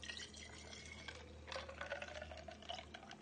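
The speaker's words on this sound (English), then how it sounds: "now we just pour into our cup" Activated charcoal lemonade poured into a cup, a quiet close trickle and splash of liquid with small drips, swelling briefly midway before settling.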